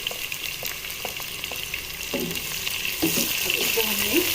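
Two medium-sized chopped onions dropped into hot oil with cumin, frying in a steady close sizzle with occasional stirring scrapes, for a ridge gourd curry.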